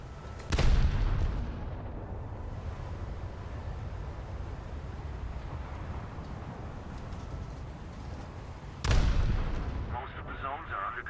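Two booming salvos of naval gunfire from a British cruiser in a warship video game, one near the start and one near the end, each a loud blast rolling into a long rumble over steady engine and sea ambience.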